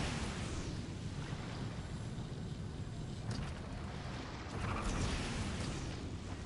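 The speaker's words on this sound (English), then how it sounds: "Rev the engines!" Engines rev in Genshin Impact, a loud, continuous roar with a rumbling low end and gusting, explosive swells that holds steady throughout, without any talk.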